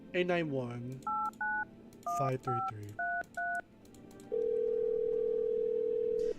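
Touch-tone dialing in a video game: a quick series of short two-tone beeps in an irregular rhythm, followed by a long steady ringback tone, with a voice speaking over the start.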